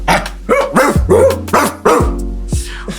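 Several dogs bark loudly and close by in a quick run of about six sharp barks, some overlapping, with a low hum underneath.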